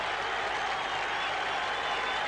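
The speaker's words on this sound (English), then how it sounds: "the Greeks are cheering as loudly as indeed are the Londoners" A huge football crowd of Greek and London fans roars and applauds steadily at Karaiskakis stadium in Piraeus as Chelsea take a lap of honour, a dense, unbroken wash of distant cheering.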